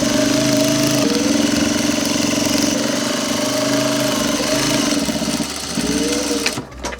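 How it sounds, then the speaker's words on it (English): A sewing machine stitches a bottom hem facing onto the back panel of a workwear jacket, running as a steady, close mechanical whir with a fast needle patter, then briefly slowing and stopping near the end. "I'm sewing the bottom hem facing to the back panel now"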